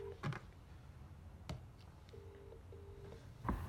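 Phone keypad tone selecting option 3 in an automated menu: two brief steady beeps a moment apart, faint over quiet line hiss, with no talk.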